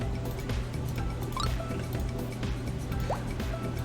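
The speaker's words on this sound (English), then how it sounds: "So yeah, then you have like a tiny little waterfall here" A small waterfall in the Roblox game Adopt Me makes soft trickling and dripping water sounds, with faint liquid bloops over a low steady hum.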